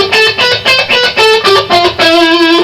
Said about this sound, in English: Then the B and G strings.